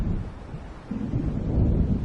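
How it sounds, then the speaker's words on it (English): Stormy weather from the video game Alan Wake, with wind roaring steadily over low, heavy rumbling that swells toward the end, like distant thunder rolling under gusts. "It seems there's a storm coming."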